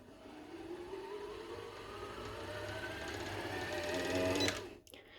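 A Janome MC10000 sewing machine runs steadily to wind the bobbin, its motor whirring and rising slightly in pitch over several seconds before stopping abruptly, close and alone.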